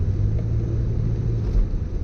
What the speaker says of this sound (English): There's the slide. Now I give it a little throttle.